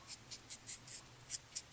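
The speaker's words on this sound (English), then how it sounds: "hear my marker squeaking" A Copic marker, running low on ink, squeaks against paper while coloring a puppy invitation card: a run of short, faint, high squeaks in a steady stroke rhythm, close and alone without talk.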